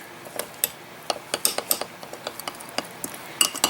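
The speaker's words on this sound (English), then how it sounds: "I'll just put in about a teaspoon worth of powdered pain. And we'll mix that through." A spoon stirs powdered spice into homemade spicy mustard sauce in a bowl, a quick irregular series of close clinks and scrapes against the dish, with no talking.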